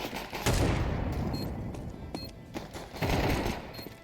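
Gunfire in a Counter-Strike match on Faceit, with dense, rapid bursts of shots that swell and fade over several seconds against a constant noisy game background.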